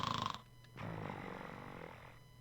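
The Sandman character snoring in a video game, a faint, drawn-out raspy snore breath that rises and fades, preceded by a brief tonal sound, with no talking.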